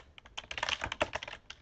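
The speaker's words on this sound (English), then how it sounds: "I'm typing that in the description here" Quick, irregular keystrokes on a computer keyboard clatter in a dense run of clicks, close and fairly soft, with no voice over them.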